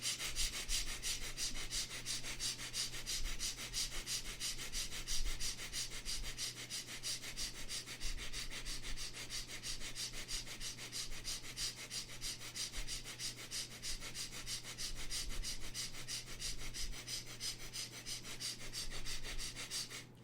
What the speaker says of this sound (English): still quick, still short breath